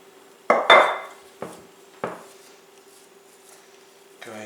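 Mixing bowl set down and handled on a counter after hand-kneading bread dough, a few sharp clattering knocks with ringing decay, close and fairly loud, over a faint steady hum.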